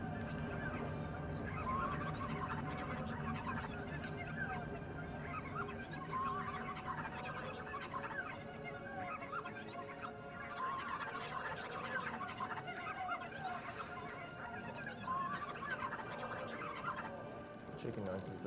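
Chickens cluck and squawk continuously in The Legend of Zelda: Twilight Princess, GameCube version, a busy layered chorus of fowl calls with a steady game background underneath, moderately quiet throughout.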